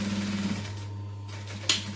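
A sewing machine runs fast while top stitching a clutch bag, a steady close mechanical whir with its stitching rhythm going throughout.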